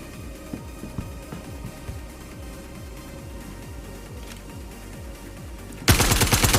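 Rapid automatic gunfire in the VR game Star Citizen during a no-respawn FPS mission, a dense stream of sharp close shots repeating steadily, then a louder burst of noise at the end.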